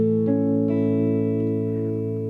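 A single muted, thumpy guitar strum with a dull thud from the thumb-muted low E string, followed by a sustained ringing chord that slowly fades; close and fairly quiet.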